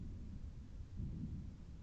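A low, steady rumble of thunder rolls through a lightning storm in Stranded Deep, faint and distant, swelling slightly midway without any sharp crack.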